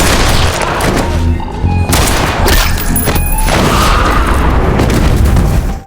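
Guns firing at zombies in an animated story, heard as a dense, loud barrage of booming shots and crashing impacts that runs without a break throughout, with no talking.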